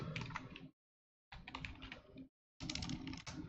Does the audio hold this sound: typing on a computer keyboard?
yes